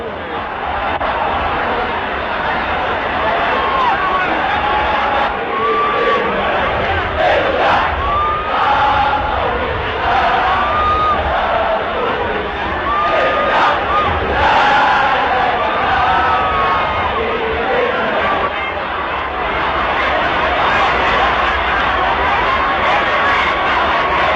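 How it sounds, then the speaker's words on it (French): A huge surging crowd at Nasser's funeral: a dense, roaring mass of voices that chant, wail and shout continuously, loud and close for the whole stretch without letup. "La foule maintenant n'est qu'un immense délire que rien ne peut endiguer."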